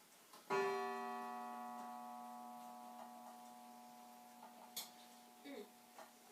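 A clock at a family cottage strikes once with a bright, ringing chime tone at a steady pitch that decays slowly over several seconds, followed by faint small clatters; the setting is quiet apart from this.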